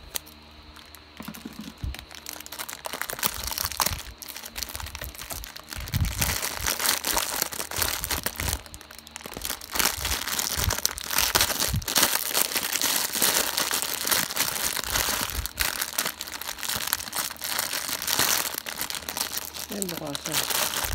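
A taped toy package from Japan being unwrapped, with steady crinkling and crumpling of packaging and tape tearing close by, continuous and fairly loud, while people talk over it.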